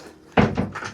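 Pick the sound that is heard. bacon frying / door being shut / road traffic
door being shut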